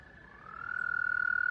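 A frog in Final Fantasy XIV sends a steady, ringing vibration through the water, a sustained tone that swells from soft to loud and then holds with a fast pulsing flutter.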